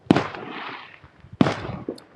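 Fourth of July fireworks at sunset burst in two sharp, loud bangs about a second apart, each followed by a crackling, rumbling tail that fades out.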